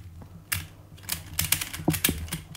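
Pieces of a Pyraminx puzzle clicking as it is turned, a run of quick, light, close clicks and clacks in an uneven burst, with no voices.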